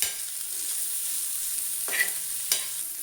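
A pan of chopped chamkura leaf stems fries with a steady low sizzle while a spoon stirs, scraping twice in clear strokes near the end.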